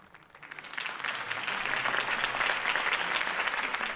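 Crowd applause from a Batman video game erupts after a campaign speech, swelling within the first second into steady, dense clapping that holds to the end without speech.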